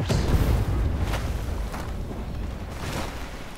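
Missile hits bursting against a tank in the armored combat game Armored Warfare: loud, dense low booms and crackling impacts, several blasts in a continuous barrage.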